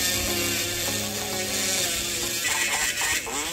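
A small rotary pen tool with a circular head grinds steadily with a whining, buzzing hum, close and continuous with slight shifts in pitch, and no talking.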